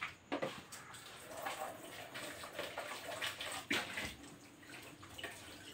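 Tap water runs steadily into a basin while something is washed by hand, with splashes and a few louder sloshes breaking a continuous broadband rush, close by and with no talking.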